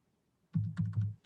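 Computer keyboard keys typed in a short burst of soft, closely spaced clacks while code is entered, starting after a brief near-silence and running to the end.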